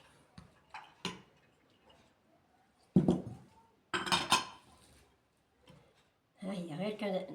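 A metal spoon clinks against a dish while a honey remedy is prepared, giving a few sharp, close clinks and taps. A person talks between and over them.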